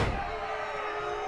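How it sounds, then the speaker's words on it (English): A pro wrestler slams a tag-team opponent onto the ring mat at a WWE-style event: one loud, near thud at the start that decays into a sustained wash of arena crowd noise. "Looked like he slammed Agent Kingston right on his head."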